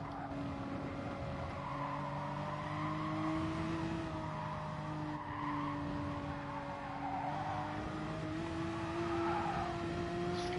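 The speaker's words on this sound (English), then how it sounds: "Skid, didn't want that skid, lost a bit of time because of the skid." Racing car in Gran Turismo Sport skids briefly on a racetrack while its engine drones steadily at high revs, loud and continuous throughout, with no talking.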